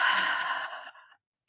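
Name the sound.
breathing out through the mouth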